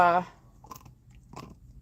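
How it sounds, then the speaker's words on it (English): Dee Dee the dog gnawing on a bone, a few soft crunching bites close by, preceded by a brief voice at the start. "chewing the bone"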